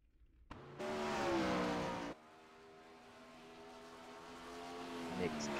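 Sprint car engines howl around the Knoxville track, a loud close burst of high-revving roar that cuts off abruptly, then a steadier, more distant engine drone rising gradually as the next car builds speed.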